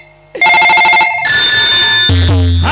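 A mobile phone rings loudly and up close, its electronic ringtone repeating in bright tonal bursts before shifting into a fuller melodic tune, with no talk over it.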